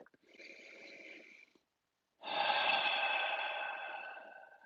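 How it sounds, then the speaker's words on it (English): A deep breath drawn in, then a longer, louder exhale after a short pause, close and alone, during a group healing prayer. "And we take a big deep breath."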